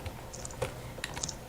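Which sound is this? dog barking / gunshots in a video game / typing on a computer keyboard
typing on a computer keyboard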